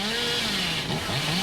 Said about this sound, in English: narrowly dodging the Hillbilly's chainsaw dash